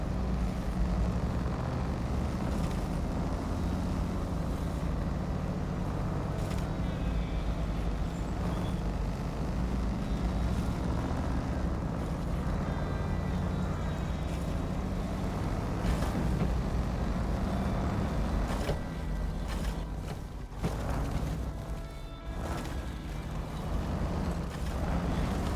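A truck engine drones steadily under load while driving over a rutted, muddy road in SnowRunner, with rumbling low end and rattling throughout, a brief dip near the end, and no talking.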